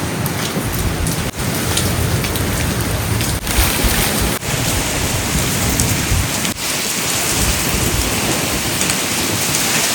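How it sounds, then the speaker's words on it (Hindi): A sudden storm gives a dense, loud, unbroken roar of heavy rain, with a few sharp thunder cracks spread through it. "जैसे अभी अचानक आधी तूफान आया"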